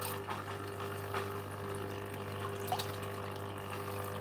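A little water sloshes and trickles in an unseasoned gold pan as concentrates from a Reedy Creek sluicing clean-up are shaken down its side, a soft steady wash over a constant low hum.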